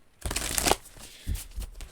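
Tarot cards being shuffled close by, one long riffling burst followed by two shorter flurries of card noise, no voice.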